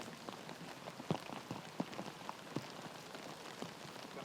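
Rain falls over a windy disc golf course in a continuous soft hiss, with irregular sharper drops tapping on nearby surfaces and no talking.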